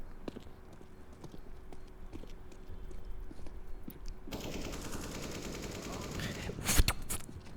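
Gunfire in CS:GO, including a wall bang shot, with scattered sharp shots over game ambience, a denser louder stretch in the second half and a strong single crack near the end.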